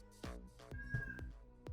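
A house cat gives a few short, plaintive meows in quick succession, quiet and close, with no talk.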